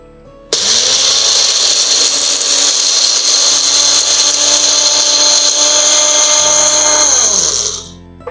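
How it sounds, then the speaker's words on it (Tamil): An electric mixer grinder whirs loudly and steadily for several seconds while grinding mustard seeds for a herbal remedy, then winds down as it is switched off. "நம்ம இதை அரைச்சிடலாம்."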